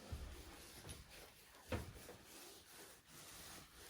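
Soft, steady hand rubbing over soapy wool felt, a gentle continuous swishing with faint strokes, close and quiet, no talking.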